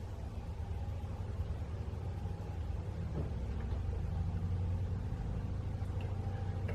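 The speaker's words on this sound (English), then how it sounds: "You hear my washing in the background, sorry about that." A washing machine runs steadily in the background, a continuous low rumbling drone held at an even level with no voices over it.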